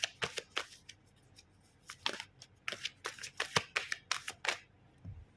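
Tarot cards being shuffled and drawn, a run of crisp riffling flicks and slaps in irregular bursts, close and fairly quiet, with no talking.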